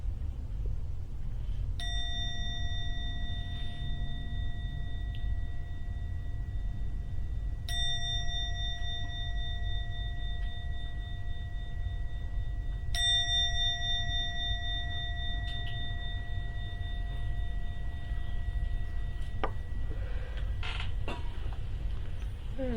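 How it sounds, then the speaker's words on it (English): A meditation gong is struck three times, each tone ringing out long and slowly decaying before the next strike, over a quiet room hum with no speech. "I'm now going to ring the gong 3 times."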